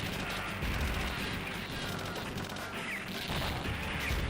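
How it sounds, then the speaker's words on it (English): Booming blasts and crashing impacts from a video game battle, a dense, continuous barrage of explosive noise filling the whole stretch, loud and close throughout. "Bomb."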